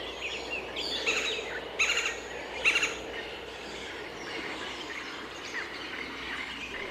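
A hungry young eagle calls from its nest in a tropical forest, a few thin high cries rising over a faint, steady background of forest insects and ambience, with no answer.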